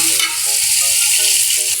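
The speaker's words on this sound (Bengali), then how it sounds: "এখন এটাকে ভাজবো, আমি খুব ভালো করে কষাতে হবে" Polao rice frying loudly in a pan with ginger and onion, a steady dense sizzle close up, while a spatula scrapes and stirs in a regular rhythm.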